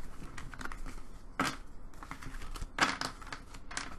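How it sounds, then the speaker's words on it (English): Tarot cards being shuffled by hand, a quiet papery riffling and crinkling with a few sharper bursts of card flicks, close and soft with no talking. "I'm going to shuffle this third deck because I have already pulled the cards for the other two"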